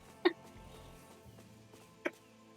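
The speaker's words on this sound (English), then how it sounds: "Ooh, hiccup." Two sharp, short hiccups from a person during a relaxed gaming session, spaced about two seconds apart, standing out over a quiet, low background hum.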